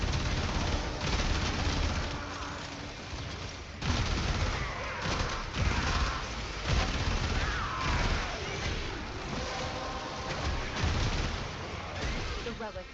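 Rapid, dense video-game gunfire rattles almost nonstop over thirteen seconds, loud and close, with bursts blending into continuous shooting and a few brief lulls.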